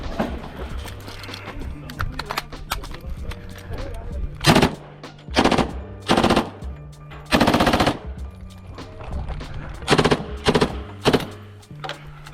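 Rare WW2 submachine gun chambered in .45 ACP firing at competition, several short loud bursts separated by pauses, with someone talking quietly between them.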